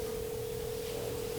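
Two sine tones at slightly different pitches sound together like a telephone ring, forming one steady, faintly beating tone that holds alone for over a second.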